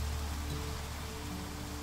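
Rain falling in the survival strategy game Niche: a steady, even hiss of rainfall with a low ambient drone underneath, continuous and moderately loud, no voices.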